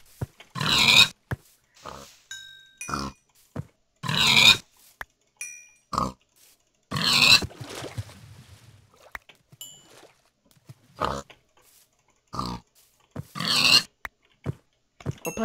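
Pig oinks in the Minecraft video game, short grunting bursts repeating every second or two over about fifteen seconds, fairly close and loud, with occasional chiming game tones between them and no talking.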